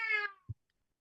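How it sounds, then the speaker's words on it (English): A cat gives a single short, bright meow up close, followed by a brief low thump and then quiet. "Kitty Cat concurs."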